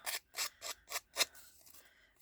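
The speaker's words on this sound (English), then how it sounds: "distressing with my scissors" Scissors snipping and scraping along scrap paper edges to distress them for a handmade card, about five quick crisp cuts in a row followed by a softer rustle, close and clear with no talking.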